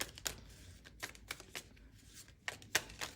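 A deck of cards is shuffled with a series of sharp, crisp riffles and snaps at irregular intervals, close and fairly loud against a quiet background.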